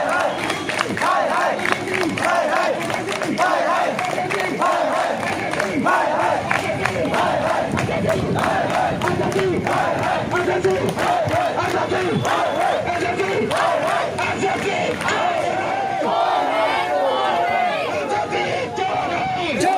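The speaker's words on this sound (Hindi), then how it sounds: "यहाँ पर जंतर मंतर पर काफ़ी भीड़ है। यहाँ पर छात्र प्रदर्शन कर रहे हैं" A large crowd of student protesters at Jantar Mantar in Delhi, demanding jobs: continuous loud shouting and chanting voices, dense and sustained throughout, with overlapping cries and chatter close by.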